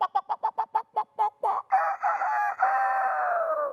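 Rooster crowing, a quick run of loud, close clucking notes rising into a long, drawn-out cock-a-doodle-doo call.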